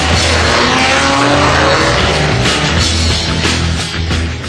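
Vintage racing cars at the start of a race, engines roaring loudly and continuously at close range, with rising and falling revs as they pull away and a slight fade at the end.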